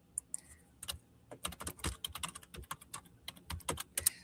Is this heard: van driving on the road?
no